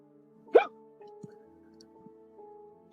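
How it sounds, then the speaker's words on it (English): A single sharp hiccup from a person, loud and close, followed by quiet low hum and faint background noise. "It sounds like you have the hiccups."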